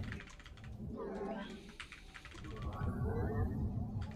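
Rapid computer keyboard key presses while playing StarCraft, a dense clatter of taps heard close up beneath ongoing talk.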